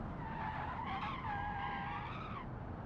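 An electric kei car in a driving game snaps into oversteer, its tires squealing in a wavering screech that rises and falls for a couple of seconds over road rumble.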